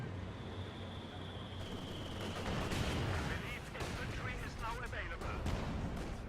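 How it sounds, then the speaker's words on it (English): An assault gun in a video game fires several shots amid a busy battle soundscape, with heavy booms and crackling gunfire layered over a continuous rumble and a voice talking over the action. "We got the Stug now throwing a couple shots into it"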